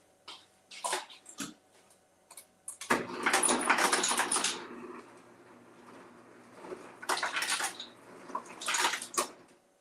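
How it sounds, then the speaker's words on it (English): Ice goes into a drink and sparkling water is poured over it: a few sharp clinks at first, then a fizzing rush of liquid that pauses and returns in bursts, close and fairly quiet. "let's do one last batch of ice, then we'll top it off with some sparkling water"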